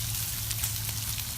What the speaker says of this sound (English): I'm gonna spread out some of this bacon here